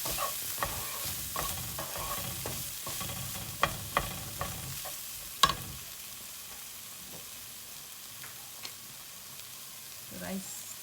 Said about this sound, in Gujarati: રાઈસ જે મેં બોઇલ કર્યો તો અગાઉથી એડ કરી પાછું બધું મિક્સ કરીશું